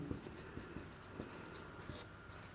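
Chalk or marker writing on a classroom board, quiet scratchy strokes and light taps in an irregular rhythm, heard alone at low volume.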